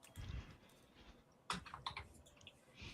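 Someone typing on a computer keyboard in short bursts of soft clicks, a pause, then a quicker, brighter run of keystrokes, fairly close and with no talking over it.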